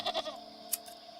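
A goat in the game Wytchwood gives two quick bleats at the start, followed by a sharp tick, over a faint steady tone.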